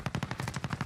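A rapid burst of about ten evenly spaced gunshots rings out in a battle royale video game, close and punchy, with no talk over it.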